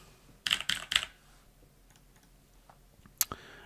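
A computer keyboard being typed on during a live chat: three quick bursts of clicking keystrokes up front, then quiet, then a final short pair of keys, close and fairly loud.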